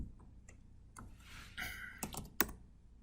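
Excel keyboard shortcuts typed on a computer keyboard: a few quiet, close key clicks and taps in an irregular sequence, building into a quick cluster of sharper presses near the end, with no talking.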